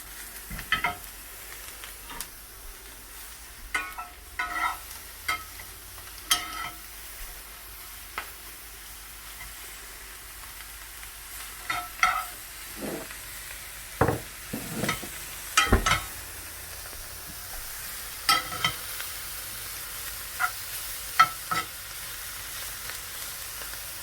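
Mushrooms frying in a pan over high heat, a steady low sizzle broken by scattered louder crackles and spatters, with stirring and scraping sounds through the clip; no one talks.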